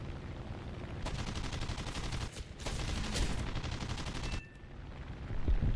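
Aircraft guns in War Thunder fire in two long, dense rattling bursts, loud and rapid, with a short gap between them and quieter engine drone on either side.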